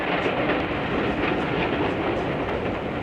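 Commuter trains pulling into a Johannesburg station at rush hour, carrying passengers in from the surrounding townships: a steady, loud rumble with rhythmic clickety-clack of wheels on rails, continuous and close throughout.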